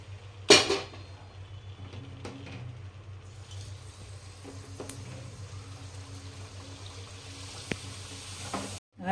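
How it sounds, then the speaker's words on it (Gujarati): Puris frying in oil on a low flame, a soft continuous bubbling sizzle with occasional clinks and scrapes of a utensil against the pan, quiet and close with no talking. "આ રીતના બધી પૂરી આપણે તરી લઈએ ધીમા તાપે"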